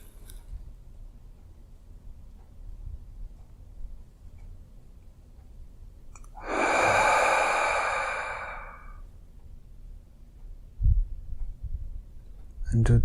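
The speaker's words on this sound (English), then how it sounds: "And just breathe naturally" A single long, deep exhale during a guided meditation, a breathy sigh lasting a couple of seconds, close and fairly loud against a quiet room with faint low hum.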